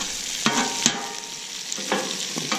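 Sausage, peppers and onions sizzle on a Camp Chef FTG600 flat-top griddle, a bright continuous hiss broken by several spatula scrapes and flips, close and loud with no talk.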